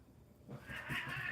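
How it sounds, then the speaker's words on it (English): Cats yowling and caterwauling in a brief scuffle, a quiet start that swells into loud, close, strained wailing cries. "as soon as I go on a live stream, there's going to be a cat fight"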